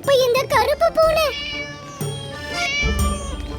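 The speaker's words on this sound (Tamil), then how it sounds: "இப்போ இந்த கருப்பு பூனை." A black cat meows loudly and close by in several drawn-out, wavering cries, with some overlapping voice or background sound near the end.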